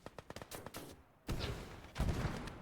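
A Panzerschreck anti-tank rocket fires in the World War II game Gates of Hell Ostfront, heavy booming blasts landing twice over a stretch of rapid, distant gunfire that crackles in quick bursts.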